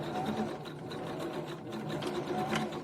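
Sewing machine stitching thick bra fabric, a steady, continuous mechanical whir with rapid needle chatter running throughout at moderate loudness, with no voices over it.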